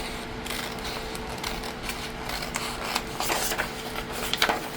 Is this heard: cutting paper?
yes